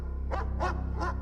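A dog barks three times in quick succession, close and loud, over a steady low mechanical hum.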